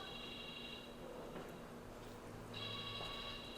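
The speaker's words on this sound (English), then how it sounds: "I'm sorry, it's my phone." A mobile phone rings during a podcast recording, its steady electronic tone stopping near the start and returning a few seconds later, moderately loud against a quiet room.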